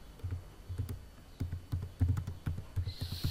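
Typing on a computer keyboard, quick bursts of close, crisp key clicks in an irregular rhythm with short pauses, no voices.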